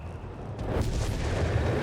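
A massive German artillery barrage with Stuka strikes in the Company of Heroes 3 video game, a dense rumbling wall of explosions building and sustaining loudly throughout.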